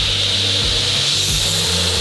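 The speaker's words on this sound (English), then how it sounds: "you're gonna run between these grinders and you're gonna somehow polish this into a perfect" Grinders working on a Damascus steel knife handle, a steady broadband whirring rub with a bright hiss throughout and low rhythmic pulses underneath, continuous and fairly loud with no voices.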